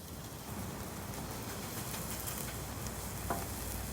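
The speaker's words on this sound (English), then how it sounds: "So just letting this meat cook up." Steak meat for a torta frying on a hot cooking surface outdoors, giving a continuous even hiss of sizzling fat, close up, with occasional faint pops.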